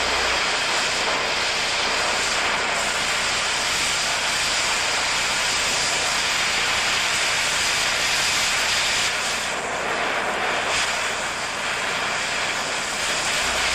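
An oxy-acetylene cutting torch slices through a welded steel T-joint with a loud, constant roaring hiss. It holds steady throughout, close up, with a slight dip in intensity near the end.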